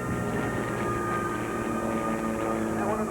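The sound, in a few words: six aircraft flying in formation at an air show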